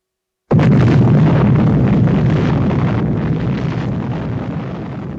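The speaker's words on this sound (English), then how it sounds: "By most accounts, the universe begins with a big bang." A huge explosion erupts suddenly after a beat of silence, a loud deep boom that rolls on as a dense, sustained rumble slowly fading, depicting the Big Bang at the birth of the universe.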